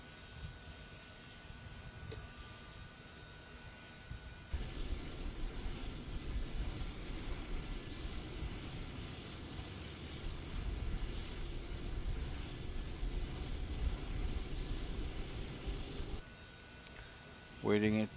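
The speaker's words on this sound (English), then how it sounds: "Let's start engine number 2." Engine number 2 of a Transall C160 cargo plane spooling up in Microsoft Flight Simulator, a broad steady roar that jumps in suddenly and holds for about twelve seconds before cutting out, over a low background hum.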